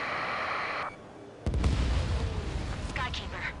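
A missile blast in the combat flight game Ace Combat 7 hits as a sudden heavy boom after a hissing rush cuts out, followed by a rumbling tail while radio chatter continues.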